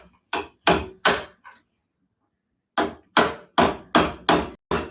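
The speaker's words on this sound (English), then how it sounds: "hammer it down to the stake" Sharp metallic hammer blows strike metal down onto a stake: four quick hits, a pause of over a second, then six more evenly spaced ringing strikes, close and loud.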